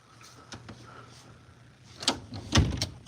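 A door in a home creaks and clatters open, several short knocks and thumps building to a louder bang near the end, close by with no talk.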